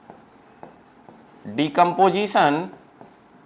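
Quick scratchy strokes on a board during a Class 10 chemistry lesson, faint and close, with someone speaking briefly over the writing.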